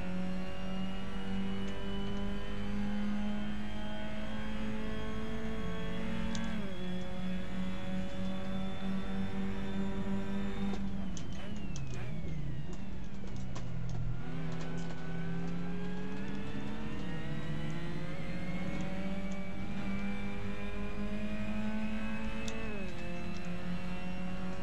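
A Mazda race car in a European Mazda Supercup round at Paul Ricard screams loudly from on board. Its engine note climbs through the gears, dips sharply under braking with downshift blips, then winds back up, with no voices.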